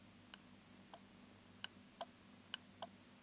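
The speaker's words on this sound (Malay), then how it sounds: "Saya nak dengar bunyi dia punya relay on off tu." A relay inside a DC power supply clicking on and off, six faint, sharp ticks spaced irregularly over a quiet background hum.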